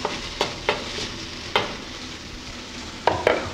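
Shrimp and Chinese noodles stir-fry in a hot pan with a steady, even sizzle, broken by several sharp scrapes and clacks of a utensil against the pan at irregular intervals; no voices.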